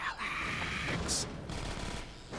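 Gunfire rattles through a tense firefight in Half-Life 2: Episode One, rapid bursts set against a dense game soundscape with a brief high whine partway through.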